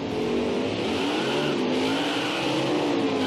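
A NASCAR race car in NASCAR Heat 5 accelerates on track, its engine droning loud and steady with a rising pitch throughout, no voices over it.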